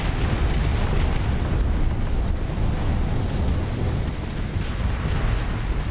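Dense, continuous roaring rumble of many missiles launching in a video game, loud and sustained with no pauses, like a heavy barrage of rocket exhaust.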